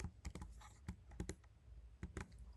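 Fingers type C code on a computer keyboard, a close, quiet run of irregular clicky keystrokes coming in small bursts with brief pauses.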